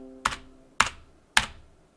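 Three separate, evenly spaced keystrokes on a Tecware Phantom 104 mechanical keyboard. Each is a crisp, slightly hollow clack that quickly fades into quiet, recorded close up with no talking.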